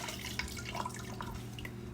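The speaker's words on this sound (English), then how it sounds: "I'm just going to rinse my cloth, my glaze cloth in water." A glaze cloth being rinsed in water, with soft dripping and trickling close by in a steady wet wash that runs the whole time.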